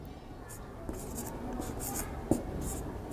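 Pen strokes scratch and tap faintly on paper while working out an equation by synthetic division, soft and close with a steady low background hiss.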